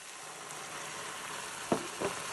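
Jack Daniel's honey whiskey poured onto onions cooking for a bacon onion jam, a steady soft sizzle throughout with two brief louder bursts near the end, no voices.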